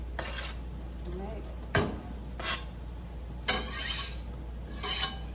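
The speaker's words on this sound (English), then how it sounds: "Put the heat on, about medium. Just gonna put the onions on right away." Onions going into a pan on medium heat, with several short metallic scrapes and clinks of utensils against the pan spaced a second or so apart over a low steady hum, and a brief spoken word early on.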